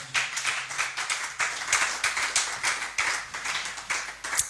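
A church congregation claps in rhythm, a dense, bright patter of many hands beating steadily in pulses for several seconds, fairly close and without voices over it.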